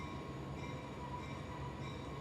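Train rolling past at a steady, slowed pace during an outdoor police news briefing in Nova Scotia, a continuous low rumble with a sustained tonal drone and faint wheel hum, no breaks in the sound.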